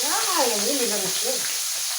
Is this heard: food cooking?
yes